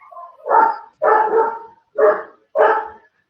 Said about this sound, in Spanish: ¿Ese perro es tuyo?